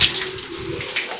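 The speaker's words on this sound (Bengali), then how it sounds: "চলো এটাকে ধুয়ে নিয়ে এবার ধুয়ে দেওয়ার পরে ভাতটা তৈরি করতে হবে আমাদেরকে" Rice being washed under a running kitchen tap, a steady broadband gush of water pouring close by, continuous and fairly loud with no voices over it.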